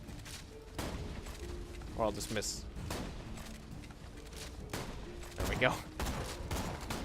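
A wavy healing shotgun firing repeatedly in Borderlands 2, several sharp booming blasts at irregular intervals amid game effects, with people talking over the shots.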